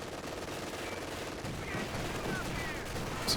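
Machine gun fire in the video game Company of Heroes 2 crackles faintly in rapid bursts within a distant battlefield mix, low in level under steady game ambience.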